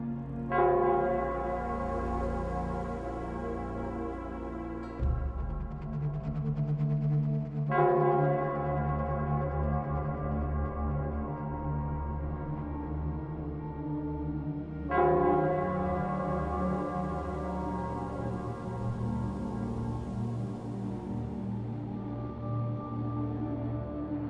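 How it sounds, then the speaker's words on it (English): The Nell Squares bell in Wuthering Waves tolls in slow, resonant strikes, roughly every five to seven seconds, each ringing out with a long, shimmering decay that overlaps the next. "it's the Nell Squares bell."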